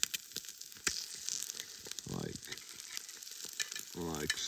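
Food frying in a Muurikka pan, a soft continuous sizzle with clicks and scraping as it is flipped, plus a couple of short rising tonal squeaks, quiet and close.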